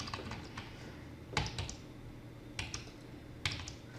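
Bursts of keyboard typing as a phone number is entered on a computer keyboard: short runs of close, crisp key taps separated by pauses, alone in a quiet room.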